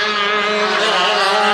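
80cc shifter karts race side by side down a straightaway at a national kart racing event, their engines a loud, close, high-pitched buzzing drone that holds steady throughout.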